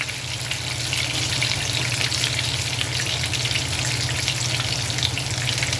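Fatty breaded pork chops fry in a pan with a steady, dense sizzle and crackle that holds unbroken and fairly loud throughout.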